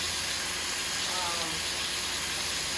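Pork chops sizzle in butter in a hot pan, giving a steady, even hiss that holds at one level throughout without a break.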